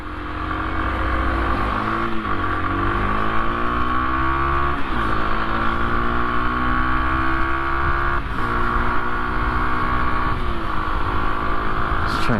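A 2023 Rieju Marathon MRT125LC Pro SM 125cc supermoto on a busy road revs up loud and close, its engine note climbing through successive gears with brief dips at each shift, wind rushing throughout.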